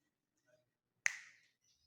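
A single crisp finger snap rings out sharply in an otherwise quiet space, with a faint short tail after it.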